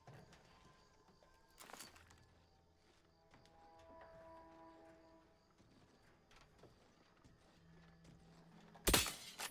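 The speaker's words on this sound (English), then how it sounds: "Sounds like a dragoon tromping about." Heavy footsteps of a dragoon robot in The Outer Worlds 2, several scattered thuds and clanks at a distance, mixed with faint mechanical tones and ending in a sharp loud crash.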